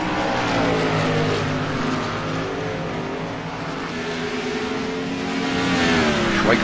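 Race cars roar past one another on a track, their engines loud and close. The overlapping engine tones rise and fall in pitch for several seconds of continuous racing noise.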